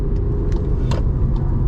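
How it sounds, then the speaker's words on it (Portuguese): Volkswagen Polo Track 2025 pushed hard into a curve, its engine and road rumble a steady loud drone from inside the cabin, with brief faint scuffs and no voices. "vamos tentar entrar um pouco mais forte aqui nessa curva para testar novamente a dinâmica"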